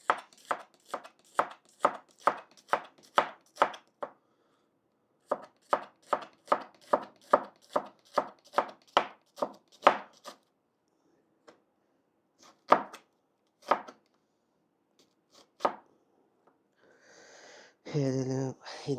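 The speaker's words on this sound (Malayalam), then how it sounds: "ഇവിടെ ഇരുന്ന് ഇവിടെ സവാള അരിഞ്ഞിരിക്കുക" Onions are chopped with a knife on a board in steady rapid runs of taps, with a pause between bursts, then scattered single cuts and a brief breathy sound at the end.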